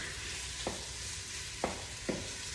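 Chicken pieces frying in a thick coconut curry mixture give a steady, close sizzle, broken by three short scrapes as the pieces are turned.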